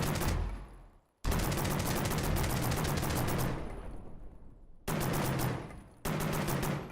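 Rapid bursts of automatic gunfire in a first-person shooter game, aimed at an enemy turret: dense rattling volleys broken by short pauses, loud and close, with no talking.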